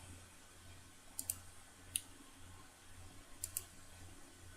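A few soft mouse clicks sound at a computer while areas are filled with a smart fill tool, in two quick pairs with a single click between them, faint against quiet room noise.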